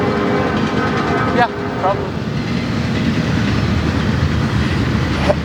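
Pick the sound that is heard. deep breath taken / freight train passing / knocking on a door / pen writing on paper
freight train passing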